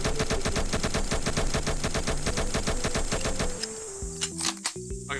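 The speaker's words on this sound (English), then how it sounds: "Stop shooting!" Rapid automatic gunfire rattles in a Roblox Mad City boss fight, a fast, loud, even stream of shots over game music, thinning into scattered single bursts near the end.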